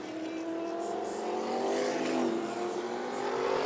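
Vintage sprint cars roar around the Meridian Speedway short track during the Diamond Cup, loud engines droning and rising in pitch as the pack passes close, with no talk.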